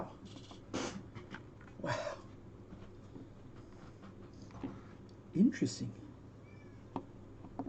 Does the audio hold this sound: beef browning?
no